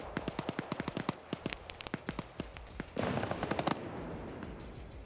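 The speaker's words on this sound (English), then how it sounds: "Autocannon shots hitting this BRDM." ZU-23 autocannon fire in a video game striking a BRDM armored vehicle, a loud rapid string of sharp cracking shots and impacts in uneven bursts, with a denser noisy stretch of fire midway, no talk.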